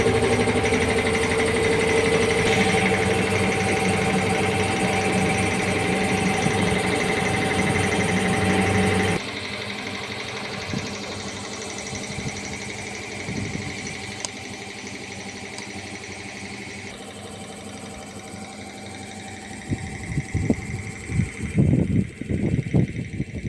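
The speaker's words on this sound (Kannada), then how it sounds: "ಇದು ಕಂಪ್ರೆಸರು, ಮೋಟರು." A 5 HP borewell motor pump, driven through a control panel and set about 1000 feet deep, starts up and hums steadily, with a continuous mechanical drone and a few louder knocks and bumps near the end.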